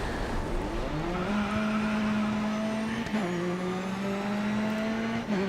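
A touring car's engine drones steadily in GRID Autosport, its pitch rising and dipping with gear changes and throttle as it runs off the track at a corner, loud and continuous with faint tyre noise.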